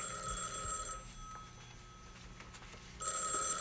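A telephone bell rings loudly in a bright burst at the start, stops for about two seconds, then rings again at the end, heard in a room at a 1973 memorial service.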